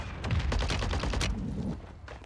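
Rapid bursts of pistol fire from the game Warzone 3 crack out close and loud, a dense volley of shots over roughly a second and a half before trailing off.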